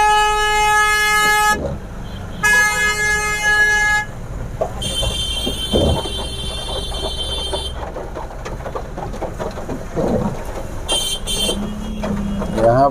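Car and truck horns honk repeatedly in a congested road traffic jam, long sustained blasts and short toots overlapping amid engine rumble, loud and close with breaks between bursts.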